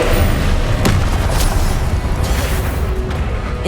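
A Confringo spell explosion in the video game Hogwarts Legacy, loud booming blasts with sharp crackling hits over a heavy continuous rumble.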